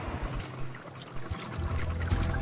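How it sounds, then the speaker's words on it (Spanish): Water pours steadily out of the end of an ancient Greek Archimedes screw, a continuous rushing splash with slight surges and no break. "sacaba el agua del fondo a través del tornillo y la arrojaba por el otro extremo"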